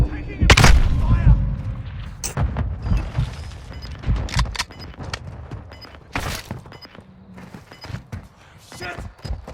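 Gunfire and explosions from the video game Modern Warfare 2022, with dense booming shots early, then scattered sharp single cracks and bursts, loud and close. Shouted voices come through over the shooting.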